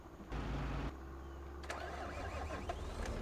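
A tractor engine in Farming Simulator 25 cranks and starts, a low rumble settling into a steady idle, followed by a few soft clicks and game interface tones, at moderate level with no talking.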